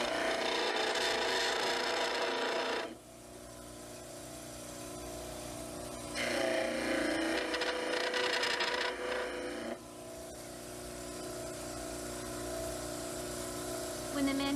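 Heels of a mandibular dental cast being ground on a model trimmer, a steady abrasive whir that runs in two loud bursts separated by a quieter idling stretch, with the grinding returning near the end.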